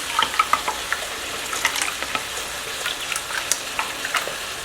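Food mixed in a pan while it fries, a steady crackling sizzle with scattered clicks and scrapes of stirring, fairly loud and close.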